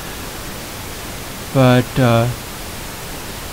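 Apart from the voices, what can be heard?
pink noise test signal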